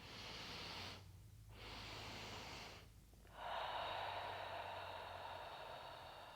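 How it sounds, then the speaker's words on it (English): Slow, calming breaths through parted lips in a physiological sigh breathing exercise, long soft airy inhales and exhales in a steady rhythm, close and gentle with brief quiet pauses between them, no talking. "Not strained, not overstretched, just gently breathing."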